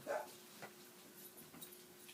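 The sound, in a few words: dogs fighting and whimpering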